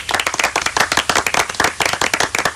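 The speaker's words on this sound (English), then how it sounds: "I'm going to give you a round of applause for this." A round of applause in a radio studio: fast, close hand clapping with a quick, even rhythm that keeps going throughout, with no talking over it.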